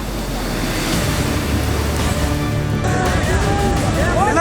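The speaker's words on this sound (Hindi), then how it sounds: "गंगा नदी में आई बाढ़ से सूखी नदी अचानक से उफान मारने लगी" The flooded Sukhi river surging over a broken embankment and sweeping a parked truck: a loud, continuous roar of rushing water mixed with wind buffeting, with voices partly audible over it toward the end.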